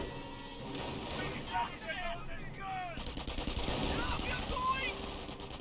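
A Pak 38 anti-tank gun firing at a Hellcat tank destroyer in the WWII strategy game Company of Heroes, amid sharp gunshots and machine-gun bursts, with a voice talking throughout.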